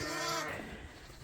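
Suffolk lambs bleating close by on a winter sheep farm while being moved, a short harmonic bleat followed by fainter rustling and shuffling.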